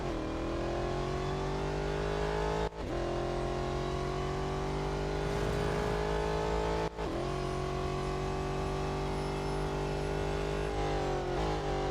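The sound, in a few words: race car engine during autocross at Mount Panorama, Real Racing 3 video game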